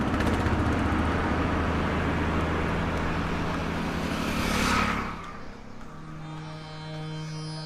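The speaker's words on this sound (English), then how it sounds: "Most of the next day is spent on the slowest lorry in India" Slow lorry grinding along a road in India, a loud continuous engine drone with road rumble that swells and then drops away, leaving a quieter steady hum.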